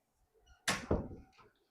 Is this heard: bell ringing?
no